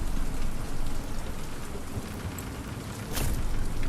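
Steady heavy rain in the video game Deadrop, a dense continuous wash of drops with a low rumble underneath and a brief sharper swell near the end, with no talk.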